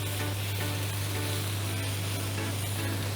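Vegetables stirred and frying in olive oil in a pan, a steady close sizzle with faint scraping from stirring, continuous and fairly loud throughout, no voices.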